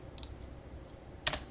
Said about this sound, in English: I'm just going to start typing some stuff here.